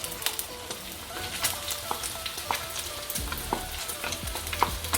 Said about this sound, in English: At this moment we're going to add the onion